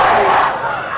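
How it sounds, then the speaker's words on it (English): Lincoln high school football crowd groans and shouts in displeasure at a penalty call, a loud mass of voices swelling then easing slightly over about a second. "You can hear the Lincoln crowd not happy, thinking that there should have been pass interference there"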